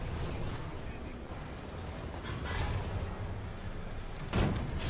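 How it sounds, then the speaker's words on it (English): Artillery strike in War Thunder with a Panzer III N tank: low, rumbling, distant booms under steady battle noise, ending with a sharper, louder impact, while someone talks over it. "So try throwing out some artillery, maybe get some lucky hits"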